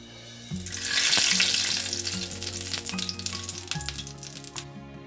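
Hot tempering poured over potato raita sets off a loud sizzle that bursts up at once and then slowly settles into softer crackling, over a faint steady hum.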